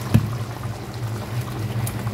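Sauce simmering in a pot on the stove, a steady low bubbling rumble with a faint sharper pop near the start, continuous and close.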